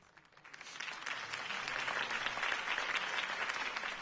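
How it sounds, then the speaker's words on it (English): Crowd applause in the Batman: The Telltale Series video game, rising after a brief quiet start into dense, steady clapping that stays loud and sustained throughout. "could have heard that applause"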